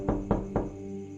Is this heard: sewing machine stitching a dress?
no